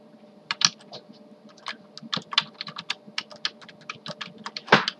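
Computer keyboard typed on in quick irregular bursts, crisp close key clicks with a few louder strokes and short pauses, no talking.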